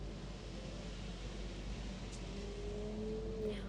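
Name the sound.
car driving away, from the video game Celestia - Chain of Fate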